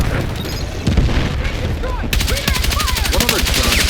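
Gunfire in the shooter Battlefield 6, loud rapid automatic bursts that build into a steady stream of shots, close and dominant, with in-game whooshes and effects layered over the firing.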